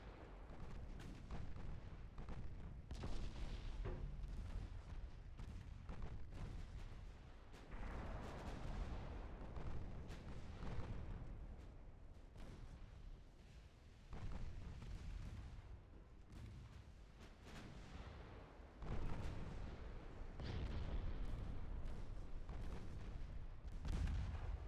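Naval gunfire in the warship game Ultimate Admiral Dreadnoughts, a dense, continuous barrage of booming cannon shots and explosions rolling on without pause, loud and layered, with no speech.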